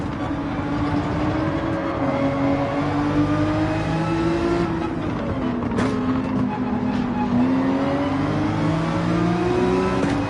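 Race cars in the Gran Turismo 7 video game bunch through a corner at Maggiore, several engines droning and rising and falling together in a loud, steady wash of sound.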